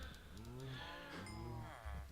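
Cows mooing in a farming video game, several long drawn-out moos overlapping one after another, loud and close over a steady low background hum.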